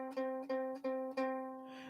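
A ukulele's C string plucked several times in a steady rhythm, each note ringing out clear and sustained up close with no talking.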